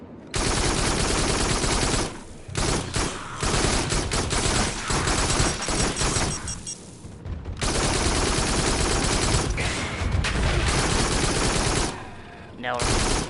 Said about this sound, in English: switch to the shotgun and just lay into him